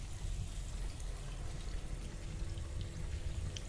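In the video game Albedo: Eyes from Outer Space, water pours after a crank is turned, a continuous hissing, splashing stream at a soft, even level throughout.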